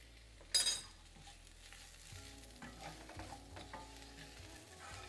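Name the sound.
leeks frying in chili oil for tadka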